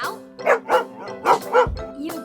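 In a children's cartoon, a dog gives a quick run of four or five yappy, tonal barks, close and bright, with a short low thump near the end.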